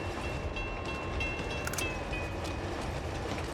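Train rumble in the Uncharted 2 train level of a video game, a steady broadband roar with faint metallic whine throughout, no voices.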